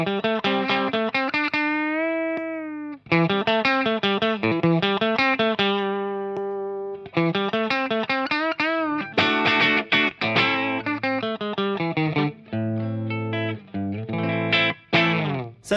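An electric guitar played through a Kokko compressor pedal set lightly, with clear sustained notes and chords and plucked phrases that ring out evenly, loud and close with no talking.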